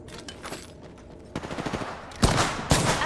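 Rapid automatic gunfire erupts in a video game, a rattling burst of quick shots followed by two louder, heavier blasts close by, with no talk.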